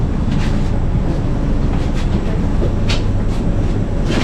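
A Moscow Metro train pulls into an underground station platform with a loud, steady rumble and rolling wheel noise that fills the whole stretch, with no talking.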